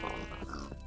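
Low pig grunts from the video game TerraFirmaCraft, a brief rough burst over a constant humming game background, no talking.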